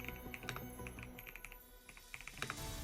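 A computer keyboard clacks in short bursts of keystrokes, a few quick taps in clusters with pauses between, close and moderately quiet, with no one talking.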